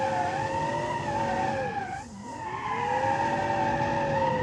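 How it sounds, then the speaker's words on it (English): Tires squeal in a long, sustained skid as a car spins donuts in the BeamNG.Drive driving game, the screech wavering in pitch and dipping briefly mid-spin, loud and continuous over engine drone. "It does very nice donuts."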